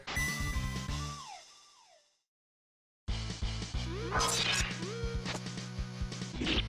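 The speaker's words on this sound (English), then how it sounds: "Of course he gets that badass glass-shattering entrance" A 16-bit game (X-Men: Mutant Apocalypse) plays a loud crash of breaking glass as Wolverine makes his entrance, after chiptune music cuts out briefly, with tinkling shards and the music driving on around it.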